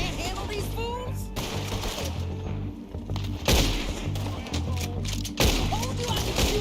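Gunfire in Red Dead Redemption 2 crackles through a busy gunfight, with several sharp shots and impacts scattered over a rumbling game soundscape while characters speak.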